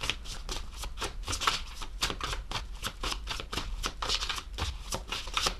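Oracle cards are shuffled by hand in a quick, continuous riffling patter of crisp, papery flicks, close and fairly soft, with no talking.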